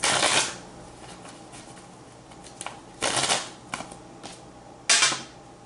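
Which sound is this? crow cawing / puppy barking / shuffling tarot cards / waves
shuffling tarot cards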